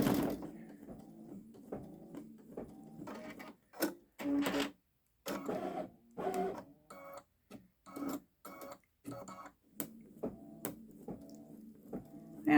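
A Babylock Solaris Vision embroidery machine stitches a star pattern, giving off a busy mechanical whir with rapid bursts of clatter and short pauses, fairly close and moderately loud.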